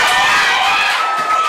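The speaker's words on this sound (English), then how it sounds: "you can hear the jubilation in the crowd" Cricket crowd at a Nepal versus Windward match erupting in loud, sustained cheering and shouting right after a catch, a dense roar of many voices.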